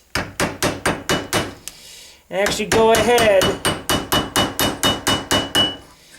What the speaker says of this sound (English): Take the peen end of your hammer